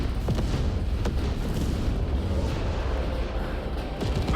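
Heavy explosions from detonations in the video game Space Marine 2, a continuous loud rumbling roar with repeated booming impacts and crackling bursts throughout.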